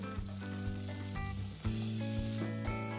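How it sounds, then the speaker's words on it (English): Onions, garlic and ginger frying for a dhaba-style egg curry, a steady sizzle in the pan with stirring and a tonal hum in the background, growing louder midway. "After some time, add the ginger pieces and stir."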